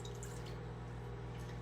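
Water is poured from a tiny quarter-cup measuring cup while lemon garlic veggie bowls are prepared in a kitchen, a brief, steady close trickle with no talking.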